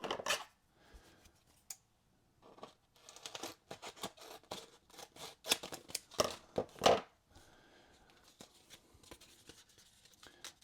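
Scissors trimming cardboard and laminate sticker sheet for homemade game components, a series of close, crisp snips and crunchy cuts coming in irregular bursts with short pauses between them.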